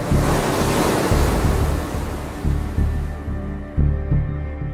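Ocean surf of the Western Ocean off the Welsh coast breaks repeatedly over a steady wash of wind and spray, loud and close, with several distinct wave surges and no talking.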